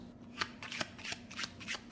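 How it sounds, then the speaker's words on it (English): A deck of playing cards being shuffled during a card trick, a quick series of crisp riffling flicks close up, with no talking. "all you need to do is shuffle off 6 cards"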